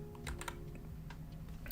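Typing on a Nuphy Air75 keyboard, a quick run of light clicky keystrokes at close range in an irregular rhythm over a low steady hum.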